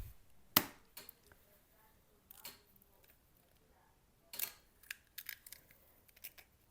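Two eggs cracked against a hard edge into orange blueberry pancake batter: a few sharp, close cracks and taps, scattered across the quiet with faint rustling between them.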